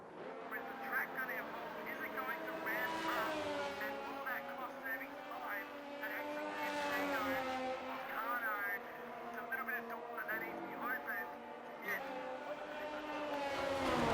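Race cars in a wet sim racing session at Belgium crawl around slowly on an outlap to warm their tyres, a steady droning engine tone with shifting pitch under continuous commentary.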